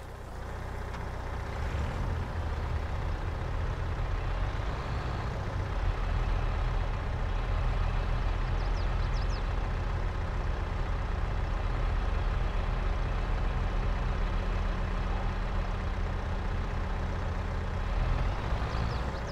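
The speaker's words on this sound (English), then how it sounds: "I'm gonna try to bring the trailer on this flat ground over here by the milk tanker." A heavy truck pulling a trailer in a farming video game, its low diesel engine droning steadily as it maneuvers near a milk tanker, with faint hiss and clatter over the continuous rumble.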